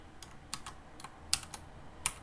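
Rapid keystrokes on a computer keyboard, a handful of sharp clicks in an uneven rhythm with a few louder taps, close and fairly quiet, with no voices.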